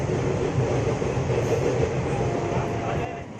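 Vananchal Express rumbling out of Ranchi at low speed, a dense continuous roar of wheels and carriage noise heard from inside the train, steady and fairly loud.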